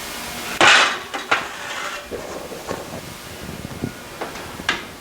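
A pan of baked almonds comes out of the oven with a loud metallic clank, followed by lighter scrapes, knocks and rattles of the tray and kitchen utensils, close by with no talk.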